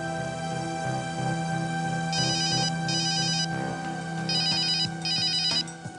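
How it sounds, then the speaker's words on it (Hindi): A telephone ringing in repeated electronic trilling bursts over a steady hum of background music. "शेखर का फोन"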